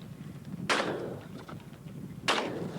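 Two shotgun blasts at a crossing pair of sporting clays targets at a ladies' championship event, each a sharp report trailing off, about a second and a half apart, heard at moderate distance over outdoor background noise.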